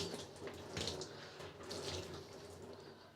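Running water from a tap pours steadily onto a clean cotton t-shirt held under it, a continuous splashing stream with brief louder gushes as the fabric is drenched.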